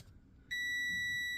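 A multimeter's continuity beep sounds while a Jefferson magnetic drill's switch and lead are being tested, a sharp, sustained tone that starts abruptly and holds steady to the end.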